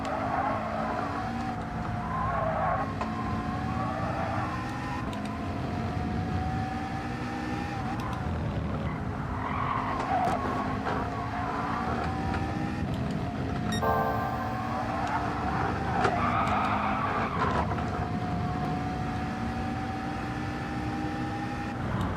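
Racing car in a Gran Turismo World Series practice lobby drifting through corners: a steady engine drone with tires squealing in long, wavering whines that rise and fall over about twenty seconds.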